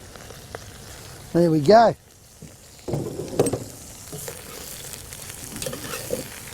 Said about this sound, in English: next thing we do is add some mushrooms. In they go. And some onions.